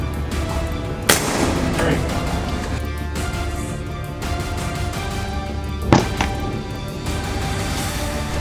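Two sharp gunshots ring out from a boat on the water during invasive iguana control, well spaced and loud, over steady wind and background noise with a person talking.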